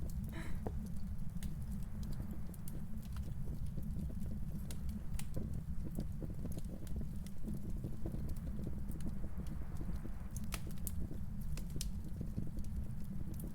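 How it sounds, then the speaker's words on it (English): Steady crackling fire in a ghost-hunting video game, continuous low popping and rustling with sharp snaps scattered throughout, close and unbroken. "Oh, that's the fire I'm hearing."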